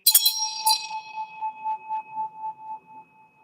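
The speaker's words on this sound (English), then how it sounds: "You can get this bell either from Nepal or from India. It's made of 7 metals." A bell cast from seven metals, from Nepal or India, gives a bright struck onset and then a long, steady ring with a slow pulsing shimmer. The tone fades gradually over several seconds, close and clear with nothing else heard.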